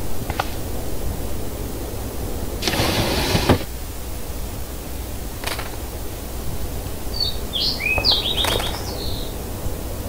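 A small bird chirps a few quick tweets near the end of a Life Is Strange game scene, over steady outdoor hiss with a couple of brief rustling noises before it.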